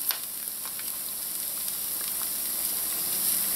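Garlic sizzles in oil in a pan over medium to medium-low heat, a steady soft crackling hiss running throughout with a few brief louder pops near the start.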